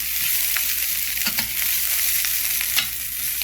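Fried rice with scrambled egg and bacon sizzles steadily in a hot pan, a loud continuous hiss with occasional crackles and scraping stirs, no talking.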